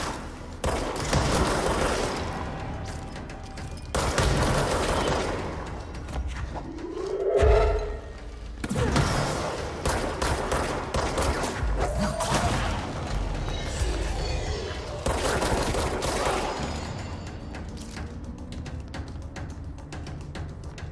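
Shotgun blasts in the video game Control, a volley of heavy booming shots spread over a long stretch of dense game noise and mechanical clatter, one big sweeping boom near the middle, with no voices.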